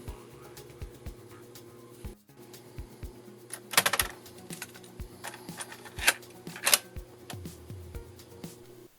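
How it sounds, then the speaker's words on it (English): Cassette tape loaded into a retro computer's tape drive, with a series of mechanical clicks and clunks as the cassette is handled and the drive is operated, including louder rattling clacks, all close by and fairly quiet. "let's get this in a tape drive"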